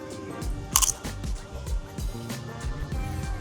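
Crunchy chips being chewed up close, a steady series of loud crisp bites and crunches with a sharper snap near the start, no talking.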